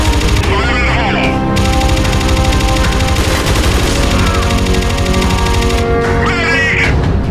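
Sustained automatic gunfire in the VR shooter game Riot, loud and continuous with rapid bursts throughout, while game voices call out over the shooting.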